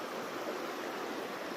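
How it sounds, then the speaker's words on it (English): River water rushing steadily at a backpacking river crossing, a close, continuous broadband wash with no voices over it. "Well, that is river crossing"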